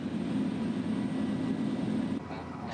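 Inside a Bureau of Fisheries and Aquatic Resources airplane in flight nearing Bajo de Masinloc, the engine drones steadily as a loud, even hum with a low tonal throb, easing slightly near the end.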